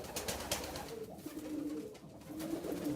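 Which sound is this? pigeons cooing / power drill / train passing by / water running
pigeons cooing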